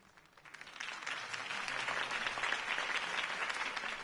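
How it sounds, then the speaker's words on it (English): A crowd applauds after Harvey Dent's campaign speech in the Batman Telltale video game, clapping rising from faint to a sustained, moderately loud wash of many hands. "could have heard that applause"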